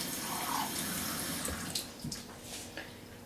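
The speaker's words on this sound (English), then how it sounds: "I'm going to add a little bit of water" A little water poured into a hot pan with browned bits from a stuffed pork loin, to deglaze it: a close, continuous rushing splash settling into crackling and bubbling.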